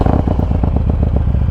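A 2020 Harley-Davidson Road Glide Special fitted with a 128-inch big bore kit revs close and loud, a deep lumpy pulsing rumble with rapid uneven firing beats and no voices.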